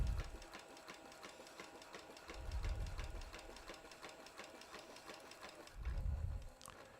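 A sewing machine stitches a journal cover in a steady rapid clatter, with three low thumping swells as the motor surges, heard near and alone without speech.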